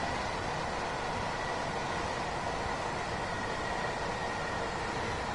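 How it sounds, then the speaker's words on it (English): Steady broadband rumble of a train crossing a bridge overhead in Train Sim World 2, on the London Victoria to Eastbourne line via Brighton. The roar stays continuous and fairly loud throughout, with no talking. "I'm assuming there's a train above me"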